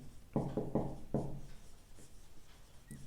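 Chalk scratching out an integration symbol on a board during a differential equations lecture, a few short rough strokes close by, then quiet room tone.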